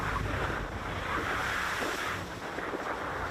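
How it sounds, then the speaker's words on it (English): Seawater surges and splashes over a sport-fishing boat at sea while a white marlin is landed, a loud continuous wash mixed with wind buffeting the microphone. "that's some water coming over"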